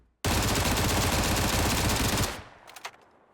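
Sustained automatic fire from a FAMAS rifle fitted with a flash hider, fired while crouched in the PUBG battle royale game: a dense, loud two-second burst of rapid shots that stops abruptly, leaving faint echoing tails.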